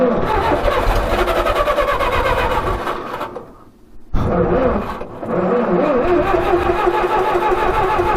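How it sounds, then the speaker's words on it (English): A skid steer engine cranks loudly and without a break, churning as it tries to start. Near the middle it fades briefly, then cranks again at full strength. "Let's see if she starts up now."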